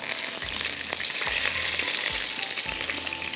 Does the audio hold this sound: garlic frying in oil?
yes